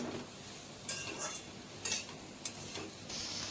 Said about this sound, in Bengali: এখানে আমি সমস্ত কিছু ইনগ্রিডিয়েন্টস দিয়ে ভালো করে একটু সবজিটাকে কষিয়ে নেব